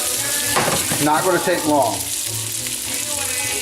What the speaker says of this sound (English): Shrimp in, and you'll see how quick they cook